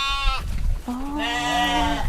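Goats on a goat farm bleat twice, a short cry followed by a longer wavering bleat, close by with faint background noise.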